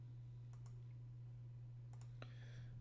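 A handful of light mouse clicks while right-clicking in MS Access: a pair of quick clicks early, then another short cluster near the end, crisp and close over a steady low electrical hum.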